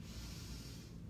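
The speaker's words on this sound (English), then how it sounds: "big breath in" A single deep breath drawn in through the nose during a home workout, a close, breathy hiss lasting about a second.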